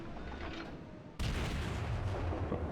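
Heavy battleship gunfire in World of Warships, with a Nagato-class battleship under a full broadside: a sustained low rumble that jumps abruptly to a louder, denser roar of booming fire midway, with no talk.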